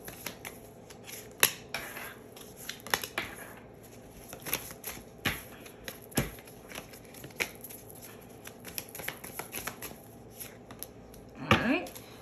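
Tarot cards are shuffled and handled ahead of a love reading, with soft, scattered riffling snaps and flicks spread unevenly throughout, faint and close, with a louder rustle near the end.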